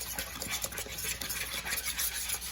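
Homemade glitter slime being stirred and squished in a bowl, a steady wet churning and rubbing texture for a few seconds, close up with no talking.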